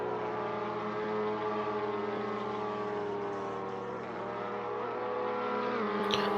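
Touring car engines in an Assetto Corsa simulation of a WTCR race, Cupra cars among them, making a continuous loud buzzing drone with layered harmonics as several cars run close together.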